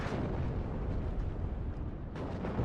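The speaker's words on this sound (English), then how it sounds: "We've got some artillery coming in, it's helping us out." Artillery shells and explosions in the WARNO real-time strategy game, a dense continuous rumble of overlapping blasts with a fresh burst near the end, no voices.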